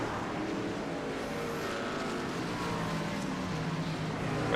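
Racing trucks thunder around the Knoxville dirt track in a continuous dense engine roar, steady and loud with a slight swell at the end.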